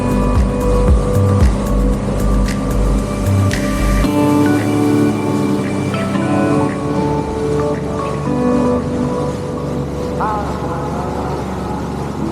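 A Sea-Doo RXP 300 jet ski runs near Whangamata, New Zealand, with a loud, steady engine drone and rushing water noise that continue throughout, the pitch shifting slightly as the craft rounds a corner.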